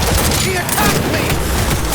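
Continuous loud gunfire in a Cyberpunk 2077 firefight, dense overlapping shots and bursts filling the whole moment, with shouting voices mixed underneath.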